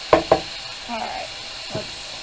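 A pan of food for spaghetti tacos sizzles with a soft steady hiss, opened by a couple of sharp utensil clicks against the pan and a faint later scrape, with no talk.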